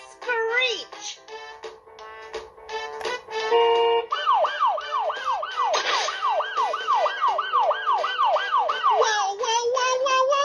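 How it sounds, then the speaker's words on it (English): Emergency sirens wail loudly and up close, first in long rising and falling tones and then in a fast repeating yelp that sweeps up and down over and over. "sirens screech"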